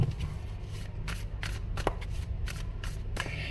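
A tarot card deck is shuffled close by in repeated riffling bursts with brief pauses between them, steady and fairly quiet, with no voices.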